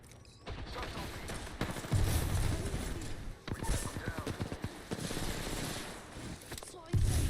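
Rapid bursts of video-game gunfire crackle through a tense online shooter match, dense volleys layered under steady voice chat and game noise, with heavier thumping bursts near the start and end.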